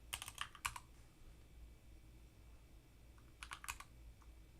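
Two quick bursts of typing on a computer keyboard, a cluster of rapid clicks at the start and another near the end, close and fairly quiet over a low room hum.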